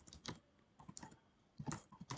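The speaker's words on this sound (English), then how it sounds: "we type" Keys tapped on a computer keyboard to enter a command, in quick irregular bursts of crisp, close clicks with brief pauses between them, quiet and alone.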